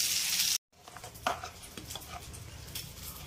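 Eggplant slit and frying in a little oil in a pan, a steady close sizzle with a brief break and light stirring clinks.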